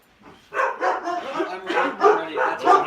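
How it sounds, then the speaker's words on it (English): Several pet dogs bark in a rapid series of close, loud woofs and yips, about eight barks in under three seconds with no other sound between them. "Those are my dogs."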